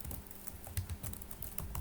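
Quick, light typing on a computer keyboard, a brisk irregular patter of close keystrokes with no talking.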